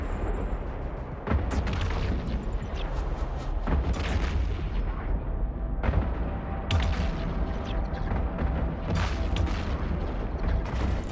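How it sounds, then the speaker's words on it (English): Sentry guns in the EVE Online video game fire at a ship in repeated heavy booming shots over a constant rumbling mechanical background. "These sentry guns are hitting me so hard."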